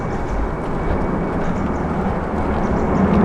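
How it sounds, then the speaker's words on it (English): A fixed-wing airplane passes overhead, a steady broad rumbling drone holding at an even level throughout, with no voices. "oh, it's an airplane"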